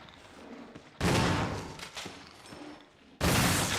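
Gunfire in the video game Resident Evil Remake: two loud, abrupt blasts about two seconds apart, each followed by a ringing decay, with a quieter room tone between them.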